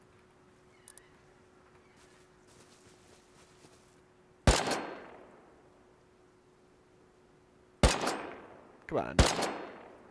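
Gunshots in the survival game Rust: three sharp, loud cracks, each trailing off in a ringing decay, the last a quick double shot, with quiet ambient noise between them and someone speaking briefly.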